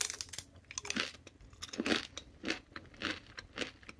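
Crisp, close crunching of a lean bison-based chip, a series of sharp bites and chews coming in irregular bursts roughly every half second, alone with no talk.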